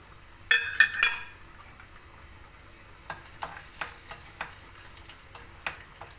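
Peanuts dropped into hot oil in a pan while making bitter gourd curry, giving a burst of crackling clinks at first, then a quieter steady sizzle broken by scattered sharp pops and ticks close by.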